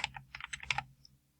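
Quick typing on a computer keyboard while entering a spreadsheet formula, a close run of crisp clicks in uneven bursts that stops after about a second, with no talking.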